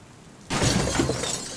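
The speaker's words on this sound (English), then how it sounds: "The sound of glass shattering was even louder than the rain" Glass shatters suddenly after a quiet moment, a loud, bright crash that bursts in and keeps ringing with tinkling fragments in an audio drama scene set during rain.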